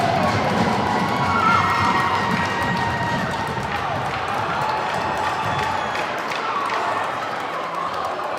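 A high school hockey crowd in an arena cheers and roars after a goal in an Evanston at Lake Forest game, a sustained loud swell of shouting and applause that fades near the end.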